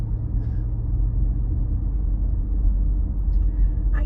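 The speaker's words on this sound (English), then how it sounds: "there's a vibration on this road" Steady low rumble of car tyres rolling over a rough, vibrating road surface, heard from inside the vehicle as a constant drone with no talking.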